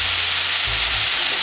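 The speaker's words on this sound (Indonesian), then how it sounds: "Sizzling so nice." Ground chili paste for sambal terasi sizzles steadily and loudly in hot oil in a pan, a dense hiss with a low thump partway through.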